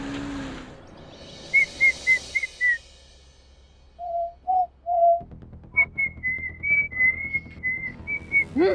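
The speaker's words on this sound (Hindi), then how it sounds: "कहाँ से आ रहे हो सीटी बजाते हुए?" A person whistles a short tune in several bursts of clear, repeated notes, fairly close, with quiet background noise between phrases and no talking.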